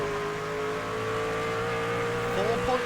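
V8 SuperTrucks racing out of the final corner at Twin Ring Motegi, a sustained engine drone with layered harmonic tones and a rising rev near the end, steady and moderately close with no talking.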